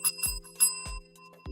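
A small handheld bell rung several times in quick, bright dings, close and loud, with no talk over it.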